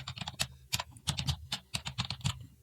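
Quick keystrokes on a computer keyboard as a new workspace name is entered in Adobe Photoshop, a close, steady run of about a dozen clicks over a few seconds with no talking.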